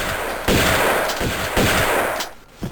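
In Tomb Raider 2 Remastered, a shotgun enemy fires, with loud, close blasts booming in quick succession, each trailing into a harsh wash before a quieter tail.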